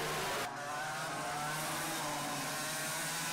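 Racing karts jostle through turn two of a kart championship race as one passes another, a steady loud drone of engines with a brief dip and swell, no voices.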